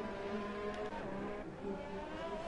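Formula One race car in a racing video game at Monaco, heading through Mirabeau and the hairpin, with a steady, moderately loud engine whine and a brief dip as it slows for the corner.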